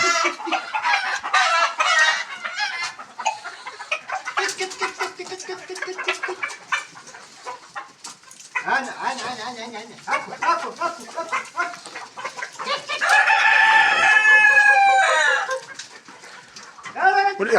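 Fayoumi laying hens clucking, with a rooster-like call among the flock, in bursts across the whole stretch, with a louder cackling run near the end and speech mixed in.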